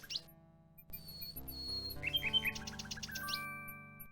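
A little bird chirps and trills in the King's Quest 6 video game, with bright tweets layered over a soft synthesized music bed, close and clear without any talk.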